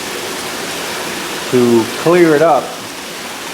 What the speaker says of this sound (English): right now what I'm doing is cycling this water through these filters